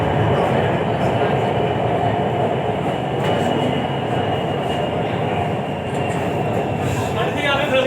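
Lahore Orange Line metro train rumbling while riding aboard: a continuous loud low roar with steady rail and wheel noise and faint squeals, as heard from inside a carriage.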